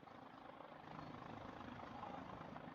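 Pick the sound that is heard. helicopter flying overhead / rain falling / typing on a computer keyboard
helicopter flying overhead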